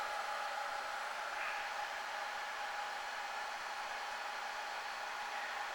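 Fans of a Dell PowerEdge 2650 server whir in a steady, loud, broadband rush that holds constant throughout with no other sounds.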